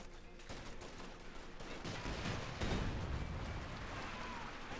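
Artillery fire and launched grenades in the video game Company of Heroes 2, a dense battle din of rapid gunfire bursts and booming blasts, swelling midway and staying busy throughout.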